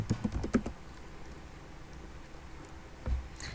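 Code being typed on a computer keyboard, with a quick burst of close key clicks at first, then sparse faint taps and a final keystroke or two against quiet room noise.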